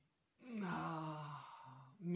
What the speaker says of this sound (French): je pourrai bâiller